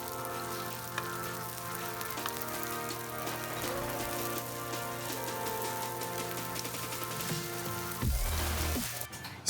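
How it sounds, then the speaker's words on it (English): Bread frying in smoking-hot infused olive oil in a pan gives a steady, dense sizzle under soft background music, with a louder burst of crackling near the end. "In a really hot pan, we've added in our infused olive oil and added in our bread."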